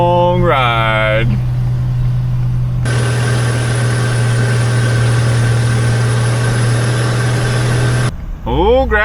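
Engine of an old crane truck running on the road: a steady low drone with a loud, rough rise in the middle as a gear is taken, and speech at the start and end.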